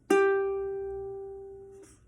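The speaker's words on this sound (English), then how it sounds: "and your ukulele should sound like this." A single open G string on a ukulele is plucked once, giving a clear, close note that rings and slowly decays for almost two seconds before it is damped.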